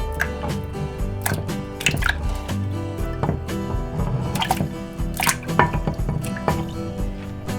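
Shrimp dropped into a small pot of water make wet squishes, drips and soft splashes at close range, landing in an uneven rhythm over steady background music.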